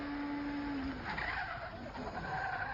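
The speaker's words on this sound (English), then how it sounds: "Those cars are mad" Race cars roar in a continuous dense engine wash with a tire squeal sliding downward early on, loud and sustained throughout.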